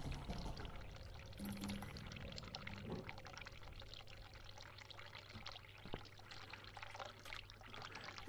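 Bathtub water pouring and trickling onto a flooded bathroom floor in The Cat Lady game, a steady close liquid wash with a low hum beneath and no talk.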